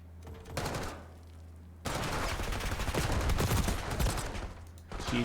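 Rapid gunfire in an esports match of a video game: bursts of automatic fire and a fusillade of shots, loud and close, with a brief lull before a dense stretch of overlapping shots.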